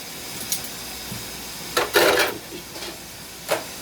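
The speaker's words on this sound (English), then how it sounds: "I love to wash my dishes as I cook" Dishes being washed at a home kitchen sink while a meal of balsamic vinegar chicken cooks: a few sparse clinks and knocks of pots and utensils, with a short splashing rush of running water in the middle.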